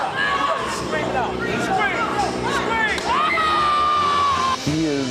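A large crowd screams, whoops and cheers continuously, close and loud, with shouting voices including children rising over the din for about five seconds.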